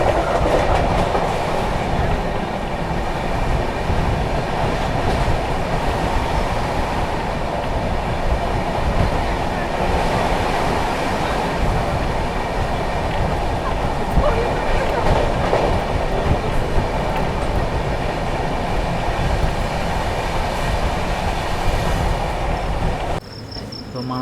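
The SMVT Howrah Superfast Express rolls by near Rajahmundry with a continuous loud rumble, rattling wagons and rhythmic clickety-clack on the rails, while insects chirp underneath until the noise drops off abruptly at the very end.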